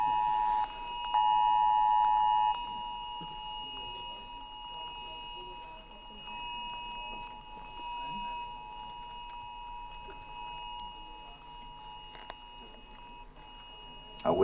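A cell phone alarm goes off in a conference hall, a steady electronic tone sounding loud for the first couple of seconds, then continuing more faintly under background room noise.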